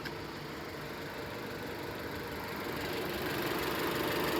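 A Jeep Renegade engine idles steadily with the AC compressor clutch engaged, giving a dense, even mechanical drone with a faint rhythmic knock that swells slightly louder toward the end. No one speaks.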